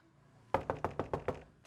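Knocking on a house door, about six firm knocks in a steady rhythm, close and loud after a short quiet stretch, with one more faint knock at the end.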